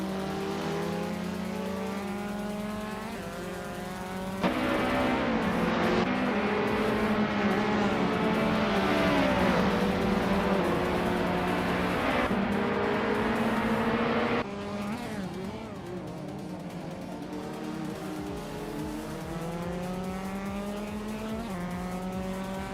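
Race cars in a video game race, among them a 2020 Geely Binrui and a 2006 Audi A4 B7. Engines roar and rev continuously and loudly, with overlapping gear shifts and pitch sweeps and no talking.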